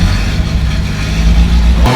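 An old machine's engine, left in the forest for 40 years, running at a steady idle with a low, rough rumble, close and loud throughout with no speech.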